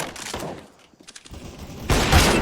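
Counter Strike gunfire rattles in quick automatic bursts, dips briefly into near quiet, then returns as a loud, sustained spray of shots toward the end.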